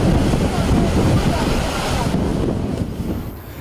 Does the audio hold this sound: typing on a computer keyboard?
no